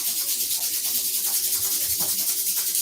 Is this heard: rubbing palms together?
yes